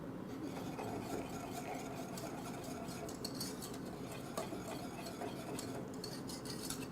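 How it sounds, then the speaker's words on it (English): A pot of peanut sauce stirred over a low to medium fire, with a soft, continuous scraping and swishing of a spoon against the pot, faint and steady. "I'll give that a quick stir."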